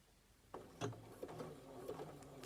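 Sewing machine with a darning foot, the needle moving up and down in a soft mechanical chatter with uneven clicks and thumps, faint and close, starting after a quiet moment.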